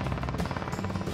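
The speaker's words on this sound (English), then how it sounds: "Captain Kate controls the helicopter by pointing the rotor blades in the direction she wants the helicopter to fly." A rescue helicopter with its crew practising winching, its rotor giving a steady, close, rapid thudding chop that stays loud and even throughout.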